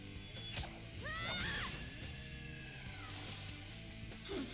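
Sharp pitched screams and cries from characters in Persona 5 Royal, rising and falling over a game music bed, with a brief crash-like burst in the middle.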